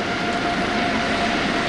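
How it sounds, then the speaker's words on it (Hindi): A formation of Sea King helicopters flies over the Pakistan Day parade, producing a steady, loud, broadband engine roar with a faint tonal hum throughout and no talk. "सी किंग हेलीकॉप्टर्स की फॉर्मेशन"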